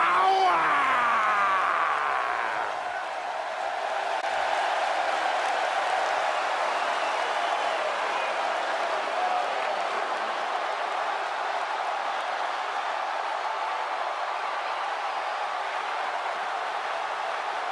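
Steady arena crowd roar and applause from the WWE 2K18 wrestling video game, a dense wash of cheering that swells briefly at the start, then holds evenly and loud for the full stretch with no clear voices.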